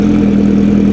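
A supercharged Kawasaki Ninja H2R motorcycle engine running warm after start-up, essentially straight-piped, giving a loud, steady, close-up mechanical roar with a strong low hum.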